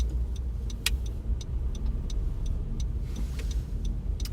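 A car drives through Manhattan traffic on a winter day, a steady close low engine and road rumble with faint ticking clicks over it, no voices.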